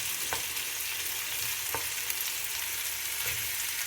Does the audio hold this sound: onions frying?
yes